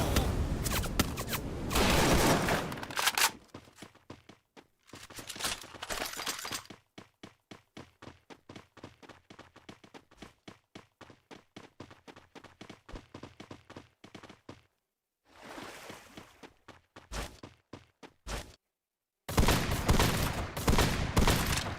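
Gunfire in Valorant during a competitive esports scrim, with loud sustained bursts and long runs of rapid, evenly spaced single shots, broken by brief silences and separate clusters of firing near the end.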